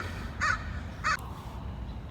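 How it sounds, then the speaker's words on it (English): A crow caws twice in quick succession, fairly close and clear, the two harsh calls about half a second apart over a quiet, low background hum. "Crow, can you be quiet?"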